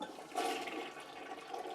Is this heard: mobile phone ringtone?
no